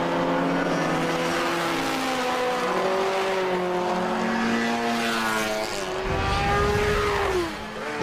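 An MG sports car in Group S sports car racing sweeps through a corner, its engine note held loud and close with a steady, slightly rising pitch before easing off near the end.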